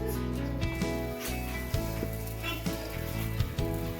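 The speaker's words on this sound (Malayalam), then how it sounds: "അതിപ്പോൾ നമ്മൾ വറുക്കുവാണ്" Rice flour, grated coconut and cumin seeds dry-roasting in a hot pan, heard as a steady soft sizzle and rustle with light scraping bursts at irregular moments, close by and without talking.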